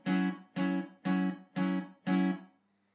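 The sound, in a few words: acoustic guitar barre chord at 9th fret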